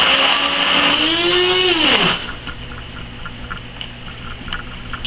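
A stick blender mixing soap whines loudly for about two seconds, then its pitch drops as the motor winds down, leaving quieter background noise with faint clicks.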